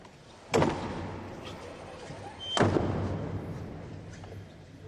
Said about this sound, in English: played that knock twice as each door closed